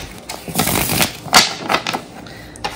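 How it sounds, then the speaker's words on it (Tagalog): Someone shuffles a deck of playing cards, giving bursts of crisp riffling and flicking close by, with several quick flurries and short pauses between them. "Balasahin natin ng mabuting"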